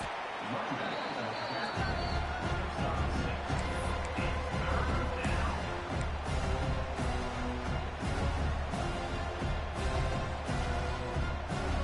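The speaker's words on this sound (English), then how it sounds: "the crowd coming to life here, trying to help this defense down in the red zone" Steady crowd noise from a college football video game, Virginia Tech against Miami, swelling in the stands during a red zone defensive stand, a continuous loud roar with a commentator talking over it.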